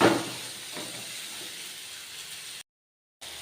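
Cut okra (lady finger) drops into hot oil and fries with a steady hiss and sizzle that flares at first and then settles, briefly cutting to silence before resuming.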